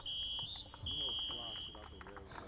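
A loud, steady electronic buzzer sounds the end of a junior varsity high school soccer game at an outdoor field, holding a single sustained tone for a couple of seconds while a commentator talks over it.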